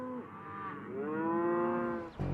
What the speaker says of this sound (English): Meet Broadway, a prize Simmental bull with the kind of genes that cattle ranchers around the world have come to covet.